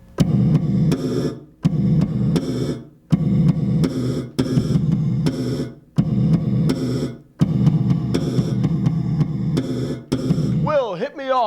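A slapped, snare-like pop on the G string of an electric bass, run through a gated reverb, plays in dense bursts roughly every one and a half seconds, each a thick, loud wash cut off abruptly, with a warbling effect sweep at the end.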